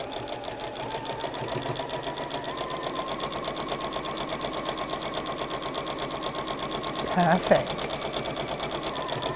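A sewing machine runs steadily, stitching two quilt rows together with a strip of sashing between them, a close continuous whir that swells briefly near the end while a voice speaks over it.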